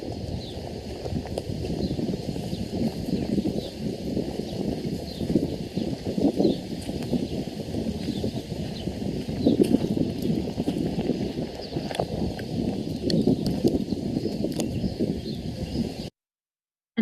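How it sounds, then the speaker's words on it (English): Bare feet walking over rough ground near palm trees on a mountain in Arabia, a steady run of soft, gritty steps close by, with outdoor wind and faint birds behind and no talking. "You will hear my footsteps, and I was barefoot."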